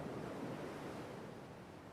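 Ocean waves wash onto a beach shore in a steady, full roar of surf, continuous and even with no breaks, and no voices over it.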